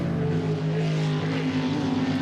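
Jet sprint boat with a 13-foot 6-inch jet speed MK3 hull, 408 cubic inch Chevy engine and 8.5-inch Scott's pump, its engine droning loud and steady with a strong low harmonic tone throughout.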